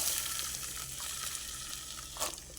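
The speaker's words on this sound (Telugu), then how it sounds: "నూనె వేడైంది కదా, గోరుచిక్కుడుకాయలు వేసేసుకుందాం." Cluster beans (goru chikkudukaya) frying in hot oil give off a steady close sizzle and crackle with light spattering, and a brief louder burst near the end.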